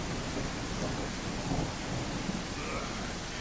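A thunderstorm rumbles in the game I Am Jesus Christ, heavy rain hissing steadily with low thunder rolling underneath, loud and continuous, no talk.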